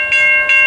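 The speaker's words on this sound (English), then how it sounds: "this gateless signal is going off as always" A gateless railroad crossing signal at Vine Street in Decatur, Alabama, with Safetran LED lights, malfunctioning; its bell rings in two steady bright strokes, loud and close, with no talk.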